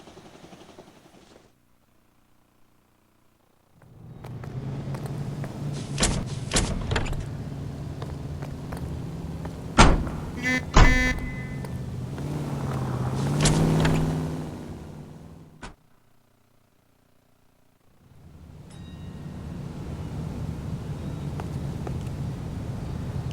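Car doors and an engine in the 1940s Los Angeles setting of L.A. Noire: a quiet start, then an engine rumbling for several seconds with sharp door clunks and clicks, a pause, and the engine running on again.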